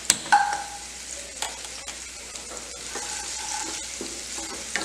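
Vegetables frying and being stirred in hot oil for a carrot and potato curry, a steady close sizzle with scraping stir strokes throughout, no talking.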